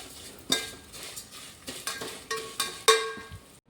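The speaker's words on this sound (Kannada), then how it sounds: "ಸೀದು ಹೋಗದಾಗೆ ಶಾವಿಗೆನ ಉರಿಬೇಕು. ನಾವು ಫುಲ್ ಸಿಮ್ಮಲ್ಲಿ ಇಟ್ಕೊಂಡು ಉರಿಬೇಕು." Vermicelli roasts in hot ghee in a pan over a low flame, stirred with a spoon that clinks and scrapes against the metal in a slow, irregular rhythm of distinct taps.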